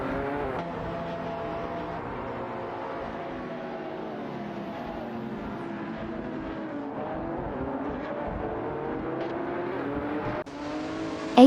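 Simulated race cars roar steadily on track in an AI racing video game, Lamborghini and Ferrari GT cars among the pack, with layered engine tones rising and falling as cars jostle closely throughout, no talking.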